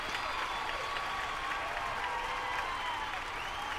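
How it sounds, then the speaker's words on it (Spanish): A circus audience at Circo Hermanos Vázquez claps in sustained, dense applause that fills the space, with a faint steady tone running underneath. "con el último aplauso, que tanto les gustó su actuación."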